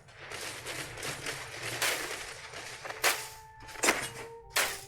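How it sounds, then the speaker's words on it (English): Enemy gunfire in the space game Starfield crackles in rapid bursts, followed by several sharp, louder shots standing out near the end, all at moderate volume with no talk. "Oh, they're shooting from the other side up there."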